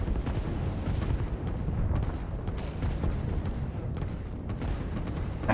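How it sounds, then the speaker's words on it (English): A rocket explodes in a strategy video game, a dense, continuous rumbling roar with sharp crackling bursts that stays loud for several seconds. "They can use their rocket to destroy the other rocket."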